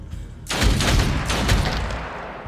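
A single sharp gunshot blasts out in the turn-based game Othercide, followed by a short burst of rattling shots and a booming tail that fades over about two seconds.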